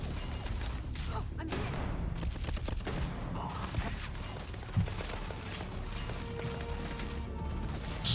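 Rapid gunfire in the space game Starfield, a dense fusillade of shots and mechanical clatter running steadily throughout, with a sharper burst near the end.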